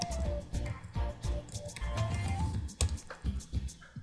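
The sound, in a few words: typing on a computer keyboard into Fiverr search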